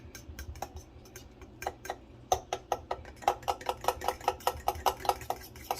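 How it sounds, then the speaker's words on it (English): A fork whisks dipping sauce for coconut shrimp in a small bowl, giving a run of quick, sharp clinks that start sparse and build into a steady, rapid tapping rhythm close by, with no talking. "I'm gonna use a fork. It'll do the same thing. I'm gonna take and just mix it up"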